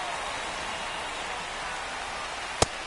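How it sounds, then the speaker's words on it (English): Steady rain pours down in the MLB The Show 25 video game during a Dodgers versus Tigers baseball match, a dense, even hiss that holds without letup, broken once near the end by a brief sharp crackle. "This rain is not letting up."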